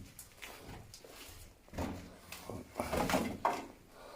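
An old door inside a WW2 air raid shelter tunnel at HMS Ganges, Shotley, Suffolk, is shifted, giving low wooden scrapes and knocks that build to a louder rattling thud in a hollow, echoing space.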